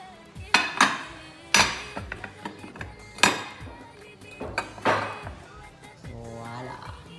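A covered pot of tahchin, fresh from the oven, is flipped over with several loud metallic clanks and knocks of lid and pot, separated by softer scraping and rattling handling.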